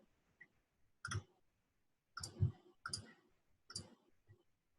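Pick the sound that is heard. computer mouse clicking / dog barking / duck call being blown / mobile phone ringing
computer mouse clicking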